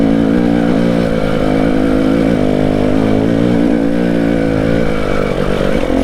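A KTM 300 TPI two-stroke motorcycle engine climbs a steep, narrow lane, holding a loud, steady drone with slight rises and dips in revs and no speech.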